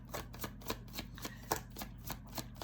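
Tarot cards being shuffled close up, a quick run of crisp riffling flutters repeating about every quarter second, alone and fairly quiet.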